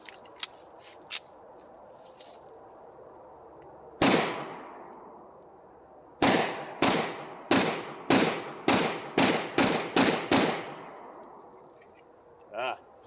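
Pistol shots from a Rock Island TCM firing 9mm rounds, one isolated shot followed after a pause by a rapid string of about nine sharp, loud reports with brief ringing decay, plus faint handling noises before.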